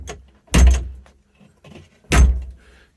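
The door of a 2023 Scout Kenai truck camper is worked twice, each time a sharp close thump with a rattle, separated by about a second and a half of quiet handling noises.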